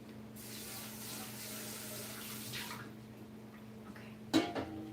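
Scallions get rinsed under a running kitchen tap, a soft rush of flowing water for a few seconds that fades out, followed by a sharp clatter of a bowl or dish against the sink.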